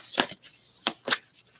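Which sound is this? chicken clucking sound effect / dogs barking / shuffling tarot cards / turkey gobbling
shuffling tarot cards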